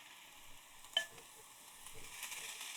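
Onions and seasoning sizzle gently in a pan as they are stirred, a soft steady frying hiss with a sharp scrape of the utensil near the start and quieter scraping later, no talking.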